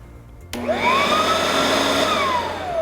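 A Riccar SupraLite R10S upright vacuum cleaner switches on with a sudden click, its motor whine sweeping upward and then settling into a loud, steady hum that slowly winds back down, with the brushroll not spinning because of a likely broken belt.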